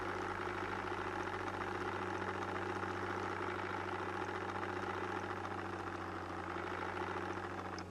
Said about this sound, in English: And we'll move the excavator just a tad bit.